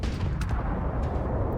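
Ballistic ship weapons in the space game Starfield, heard as a continuous heavy rumble with a few sharper bursts on top, loud and close with no voices.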